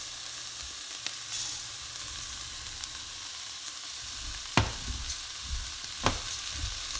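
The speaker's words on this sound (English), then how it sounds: "So after 2 minutes of frying the rice, we are going to add the water." Rice fries with onion in a pan, giving a steady broad sizzle. A few sharp scraping taps from stirring stand out over the hiss.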